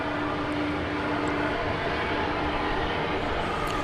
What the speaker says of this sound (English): And as if you didn't have enough tri-jets, here's another one backing out.